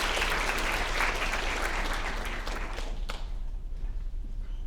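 A lecture audience at a school writers week event breaks into steady, full applause, a dense wash of clapping that fades slightly toward the end.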